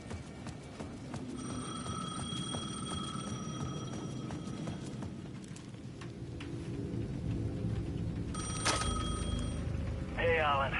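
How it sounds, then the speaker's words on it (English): A payphone at the edge of a plaza rings repeatedly in Alan Wake 2, a steady electronic bell over a dense rumbling, rain-like ambience that swells toward the end. "The payphone at the edge of the plaza was ringing again."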